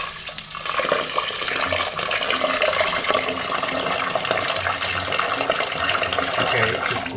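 Tap water pours straight from the faucet into a rice cooker pot, a steady broadband rushing splash that runs continuously and fairly loud for several seconds, with no talk over it.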